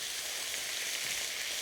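Prawns stir-fry over high heat for chow mein, giving a steady, dense hiss and sizzle that holds evenly throughout with no talking.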